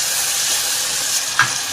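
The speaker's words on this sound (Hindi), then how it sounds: "अभी अच्छे तरीके से मसाला भून चुका है" Masala for paya frying in a pan, a loud, steady sizzle and hiss with a brief scrape of stirring near the end, close and without talk.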